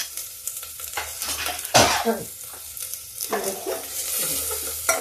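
Onion, green chili and garlic fry in a pan with a steady hiss and sizzle, broken by scraping stirs and a sharp clatter of utensil against the pan; a voice speaks briefly.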